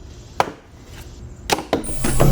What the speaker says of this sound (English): Chopping some wood, obviously it is a chopper.